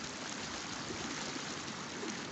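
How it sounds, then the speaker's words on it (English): Rushing floodwater pours past in a steady, broadband roar that stays constant and fairly faint throughout, with no voices. "Hope you guys can hear the sound of the rushing water"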